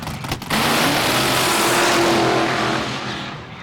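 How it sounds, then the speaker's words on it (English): A drag racing car doing a burnout in the left lane at a Houston spring nationals event, a loud sustained engine roar with tire screech that swells quickly, holds steady for a few seconds, then slowly fades. "You see the burnout of Spencer Massey in the left lane."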